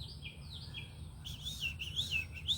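Several birds chirp and tweet outdoors in repeated short bursts, moderately close over a low steady background hum, with no voices.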